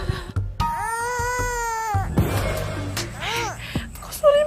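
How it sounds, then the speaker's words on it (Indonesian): A baby wails in the middle of a street, one long sustained cry followed by shorter choked sobs and whimpers, loud and close, with faint background noise. "Kok ada suara bayi sih di tengah jalan kayak gini?"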